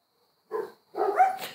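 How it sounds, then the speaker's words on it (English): Two short dog barks, the first brief and the second longer and rising, heard alone against silence with a gap between them, fairly close and clear. "now the dogs are going to bark again"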